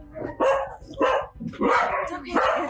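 A dog barking in recorded home footage from the night before: four or five loud, close barks and yips in quick bursts, with a slightly whiny edge.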